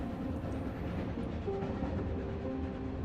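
A steady train rumble with rolling wheel noise and a faint high whine plays as ambience during a train ride in the video game South of the Circle, continuous and even throughout.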